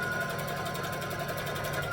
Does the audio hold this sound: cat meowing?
no